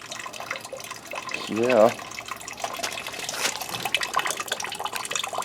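Coolant draining from an Oldsmobile radiator, a continuous trickling and splashing of liquid close by, with a person speaking briefly over it.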